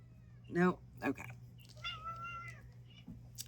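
Pearl, a pet cat, gives two short meows close by, then a longer drawn-out meow, over a low steady hum.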